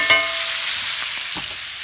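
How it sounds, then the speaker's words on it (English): Steak searing in a hot pan, a loud continuous close sizzle with a brief clatter at the start and faint knocks from the pan, no talking. "gonna sear them nicely"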